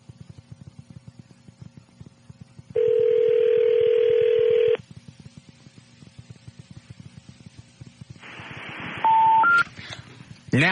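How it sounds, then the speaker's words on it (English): Telephone keypad tones dialing out on a radio show hotline: a long steady tone holds for about two seconds, a quiet gap follows, then another burst with a few short stepped beeps, all over a low rumbling background. "I bet I got to dial 1."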